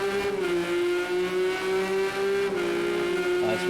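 Race car engine in a PS4 racing game at Silverstone, accelerating out of corners with a steady high-pitched drone that shifts in pitch, loud and continuous, with faint tire noise.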